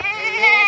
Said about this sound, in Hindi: तो जी ये देखें आ गई हैं बकरियां